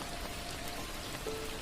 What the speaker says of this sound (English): Outside, falling drops.